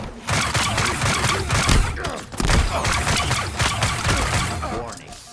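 The Needler in the Halo Infinite video game fires in a loud, continuous rapid stream of crackling shots with thumping impacts, layered with game effects and only short breaks.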